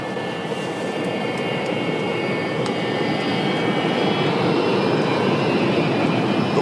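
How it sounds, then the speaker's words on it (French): An airplane rolls down the runway before takeoff with a steady, loud, continuous engine roar that builds slightly and never lets up. "Pourquoi il décolle pas, ce putain d'avion?"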